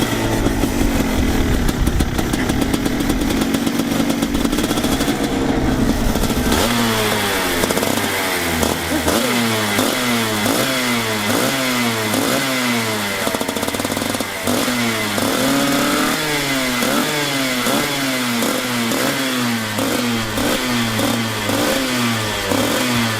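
A motorcycle engine fires up on its electric starter, then holds a steady, near idle under a light throttle, with rhythmic rising-and-falling revs through the rest, loud and close with no talk.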